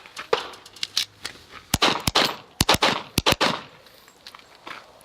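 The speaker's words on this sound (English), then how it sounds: "Just draw and shoot the 3 targets" Six sharp airsoft pistol shots, fired in pairs at three targets on a practice range, each pair snapping out close together with short gaps between, over faint background noise and light movement.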